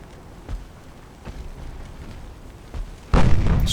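A torpedo launcher is destroyed in an 1890s-era French naval campaign game: a few dull thuds of distant gunfire, then a sudden loud, sustained explosion roaring through the final half second.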